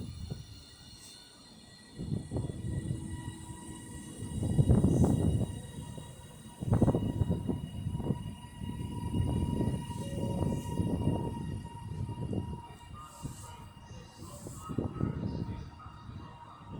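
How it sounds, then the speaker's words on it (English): Class 323 electric unit departing Manchester Airport on a Northern service to Crewe, a rising low rumble of motors and wheels building through the station, with a faint tonal whine and distant announcement-like tones, no talking. "And now departing is 323205, working the 11:02 northern service to Crewe."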